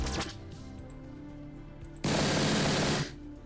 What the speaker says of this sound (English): Now fire weapon.